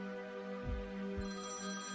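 A telephone rings with a steady electronic tone held across the whole stretch, fairly faint and alone, with two soft low thumps partway through.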